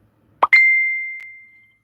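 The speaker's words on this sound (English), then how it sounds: "Where'd that ping come from?" A phone notification ping: a short plop followed by a bright, clear ding that rings out and fades over about a second, heard alone in near silence.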